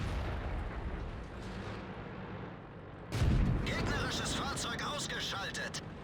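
In the World of Tanks video game, a single heavy artillery boom bursts in, followed by crackling debris and rumbling battle noise. A steady engine drone runs beneath it, and a voice talks over the game.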